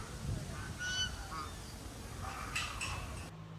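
Swans honk repeatedly at a farm house resort, the calls moderately close and overlapping under steady background noise.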